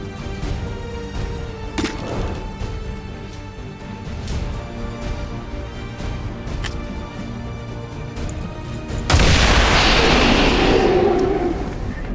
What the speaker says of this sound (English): Placing explosive.